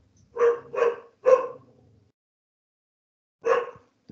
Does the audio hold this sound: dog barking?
yes